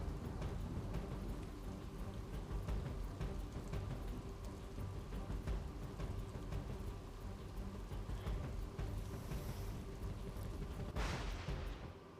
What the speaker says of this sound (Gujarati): 48 કલાકથી અવિરત વરસાદ છે